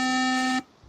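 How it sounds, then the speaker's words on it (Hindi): A buzzer wired to a pushbutton circuit sounds once, a loud steady electronic tone lasting just over half a second before cutting off abruptly. "ये बटन प्रेस करने पे बजर बजे"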